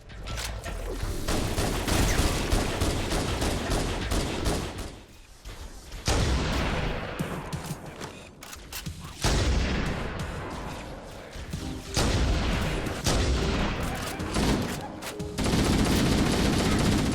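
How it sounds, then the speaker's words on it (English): Weapon fire in Halo: Combat Evolved, a steady stream of loud shots and automatic bursts with mechanical clatter and heavy impacts, broken by several short pauses. "Every single weapon has a sound so distinct that you could easily tell them apart by that alone"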